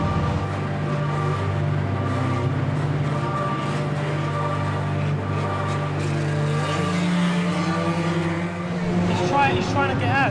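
Race cars circuit a track, their engines droning in a steady, layered hum with pitch sweeps near the end as one passes close. Commentary-like talk runs underneath.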